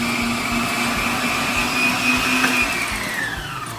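A kitchen electric mixer beats sponge cake batter with baking powder in a continuous loud whirring drone. Near the end its pitch sags and glides downward as the motor slows, and no one speaks.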